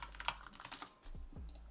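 Rapid typing on a computer keyboard while coding, a close, busy patter of light key clicks with uneven rhythm and a few heavier strokes, heard alone without talk.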